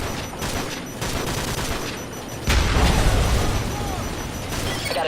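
Tank fire and combat in Call of Duty: Modern Warfare 3, with a dense barrage of gunshots and a sudden heavy boom midway, followed by a sustained rumbling battle din.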